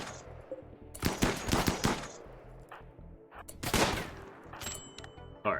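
Bolt action rifle gunfire in the colony game RimWorld: several sharp, loud shots crack out in bursts, spaced irregularly across the fight, with low background music underneath.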